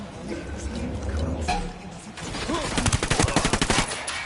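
Video game gunfire breaks out amid ambient game noise, building into a rapid burst of a dozen sharp automatic shots close up, with faint voices in the background.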